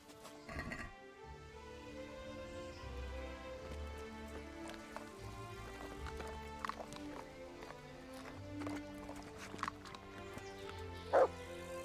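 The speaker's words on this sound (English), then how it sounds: "There's the good dog." In the video game Kingdom Come: Deliverance, a dog barks a few times over layered game music and ambient sound, with hoof-like clopping and brief yips scattered through.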